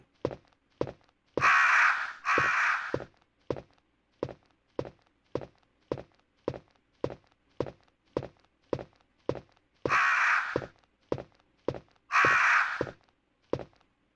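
Crows cawing in the survival horror game Resident Evil, harsh loud caws in pairs standing out over a steady series of regular thudding footsteps.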